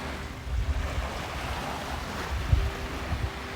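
Gentle ocean waves wash ashore at Chao Lao Beach in eastern Thailand on a calm, nearly windless evening, a steady low surf rumble with a few soft breaking swells, no voices.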